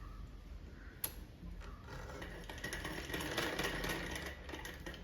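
A sewing machine runs steadily, stitching a garment seam about half an inch from the edge, with a sharp click near the start and then a continuous close mechanical whir.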